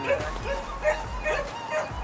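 A dog barks in a quick, regular series of sharp yipping woofs at close range, about two or three per second.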